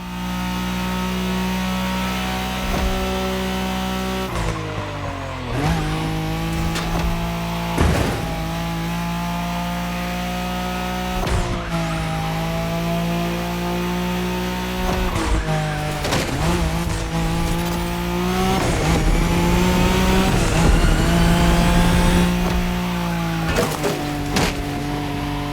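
A Nissan Skyline race car in The Crew Motorfest roars loudly through repeated gear changes, with the engine rising, dropping and revving again. Tires squeal through the corners. The sound is steady and close throughout, with no talking.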